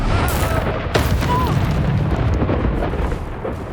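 A Confringo spell explodes in the Hogwarts Legacy video game, a loud booming blast with a sharp onset followed by sustained rumbling debris and crackle that stays dense to the end.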